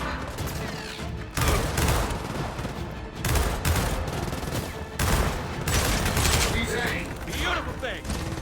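Gunfire in the video game Gears of War 4, with repeated bursts of rapid automatic shots and crashing impacts, loud and dense throughout, mixed with other battle noise.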